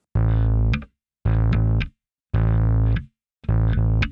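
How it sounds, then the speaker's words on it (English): Bass guitar with overdrive playing a rhythm of four sustained distorted notes, each cut off sharply, with brief pauses between them. Loud and close, with no talking. "I have some drive on the bass today just so you can hear it"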